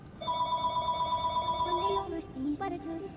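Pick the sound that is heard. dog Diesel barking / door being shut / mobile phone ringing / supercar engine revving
mobile phone ringing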